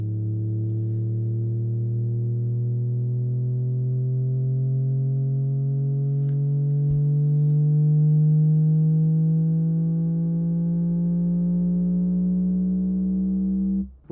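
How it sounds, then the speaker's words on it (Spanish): A synthesized sine tone with harmonics glides steadily upward by one full octave, rising to a C, sustained and loud throughout with no talk, cutting off abruptly at the end. "va a hacer un efecto de glissando por 8 compases hacia una octava entera"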